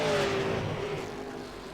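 A V8 Supercar race car passing, its engine note sweeping downward as it moves away, a brief loud roar fading over under two seconds.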